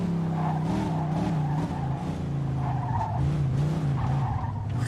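Car in the video game GTA swerving and skidding at around 30 miles an hour, a steady engine drone with wavering tire squeal running continuously throughout, loud and close.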